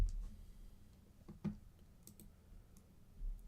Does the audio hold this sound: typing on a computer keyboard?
yes